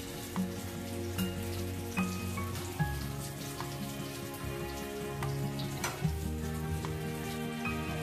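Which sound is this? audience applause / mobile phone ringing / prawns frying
prawns frying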